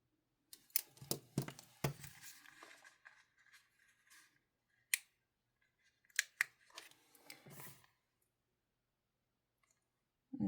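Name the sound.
scissors cutting out planner stickers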